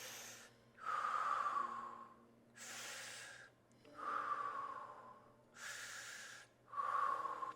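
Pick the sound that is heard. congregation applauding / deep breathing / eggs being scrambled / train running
deep breathing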